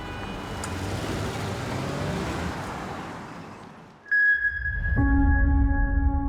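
A car horn blares as a steady held tone after a stretch of engine and road noise, with the car accelerating away close by.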